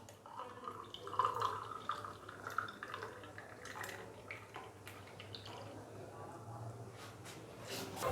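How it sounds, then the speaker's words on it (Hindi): Milk and almond sharbat poured into glasses in a home kitchen, soft trickling and dripping liquid sounds at low volume, coming in small splashes beneath occasional speech. "तो इस तरीके से हम गिलासों के अंदर दूध और बादाम का जो शरबत है वो डाल देंगे"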